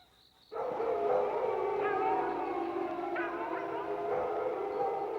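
A pack of wolves howling at a wolf gathering in the 1989 animated Jungle Book, several long overlapping howls rising together and holding steady, loud and sustained.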